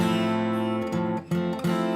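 A guitar chord is strummed a few times with the open A string ringing in, giving a full, muddy low-heavy sound, steady and close.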